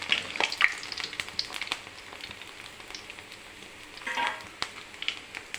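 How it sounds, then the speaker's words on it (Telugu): Telangana-style rice flour vadiyalu fry in hot oil, crackling and bubbling with scattered sharp pops and a brief louder burst of sizzling near the end, close by with no talk. "చూడండి ఫ్రెండ్స్ మీకు వేయించి చూపిస్తున్నాను."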